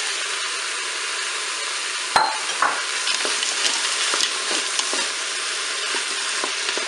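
Mushrooms go into sizzling turkey escalope pieces for Stroganoff browning in a Cookeo multicooker, with a sharp clatter as they land, then soft stirring scrapes over a steady frying hiss.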